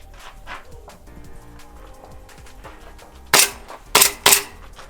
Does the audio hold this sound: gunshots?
yes